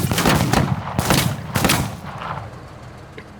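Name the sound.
gunshot fired by a soldier in a video game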